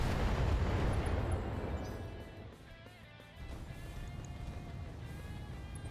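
Missiles fire in a video game as a loud, continuous rumbling roar of launches and blasts that dips briefly, then surges back, with faint high tonal game sounds threaded through.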